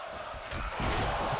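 Crowd at a video-game wrestling match, a dense cheering roar that swells and grows louder across the moment.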